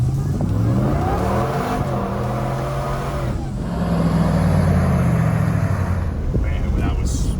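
A Hellcat-engined Jeep Gladiator roars loud and sustained, its pitch climbing and sagging as the tires spin, with an excited voice over the engine.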